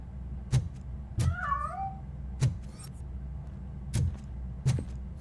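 A cat meows in the video game Robocop Rogue City, a clear wavering meow early on, set among sharp thudding footstep-like impacts and low game ambience.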